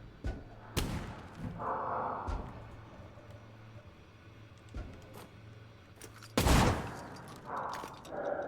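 Several sharp gunshot cracks with a hollow, spud-gun-like pop ring out at irregular intervals, a few close and punchy, over a low steady hum.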